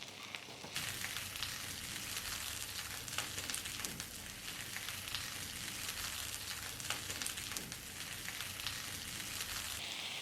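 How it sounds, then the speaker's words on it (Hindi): Potatoes and eggplant fry in a pan with a steady, dense, close-up sizzle that holds level throughout, with no talking. "दोबारा से 1 से 2 मिनट और फ्राई करेंगे।"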